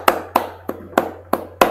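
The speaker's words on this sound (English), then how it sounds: "I'm just clapping in this amazing show of absolute intelligence" Six sharp hand claps in a steady, slightly uneven rhythm, close and fairly loud over a low constant hum, with no talking.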